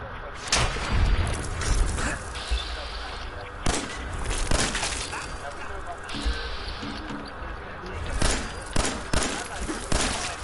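Fallout 4 combat: sharp, loud gunshots crack out singly and in quick pairs at irregular intervals, with someone talking between and over them.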